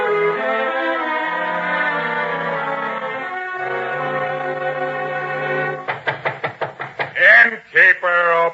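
Several sharp knocks strike an inn door, likely with a sword handle, in a quick burst of six or seven raps followed by two heavier blows, right after a sustained held musical or vocal tone.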